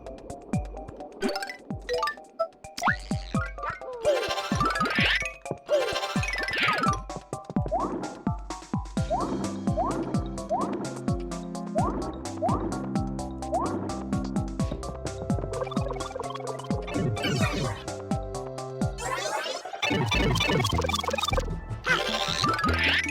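Splashing, dripping water effects from the Super Paper Mario video game, a steady stream of bubbly liquid plinks and boings over busy game music, with no talk.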